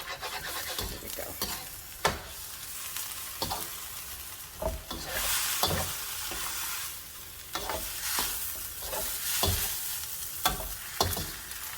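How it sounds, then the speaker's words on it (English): Fried rice being stir-fried with sauce in a pan over the highest heat, a steady loud sizzle broken by repeated scraping and stirring strokes at an irregular rhythm, with no talking. "I'm going to go in with my sauce and let it sort of simmer first, and then start mixing it in with the rice"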